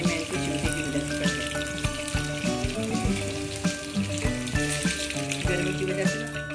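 Beef stick kababs fry in hot oil with a steady, dense sizzle and crackle that runs unbroken throughout, loud and close, with scattered pops over a low hum.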